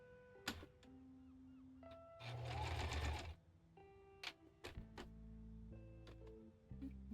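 A sewing machine runs in one loud, close burst of about a second while stitching scrap fabric for a cosplay, surrounded by quieter clicks, taps and faint tonal background sounds before and after.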